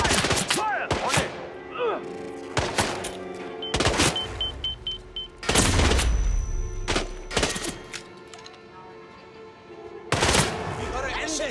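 Gunfire from the Hitman: World of Assassination video game: several sharp, loud shots and bursts fire irregularly among in-game thuds and mechanical noises, with voices talking at times.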